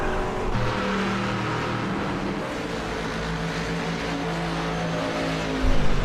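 Ford GT and Mustang GT race cars at Spa in a sim racing game, a steady dense roar of several engines droning together at high revs, with a brief louder surge near the end.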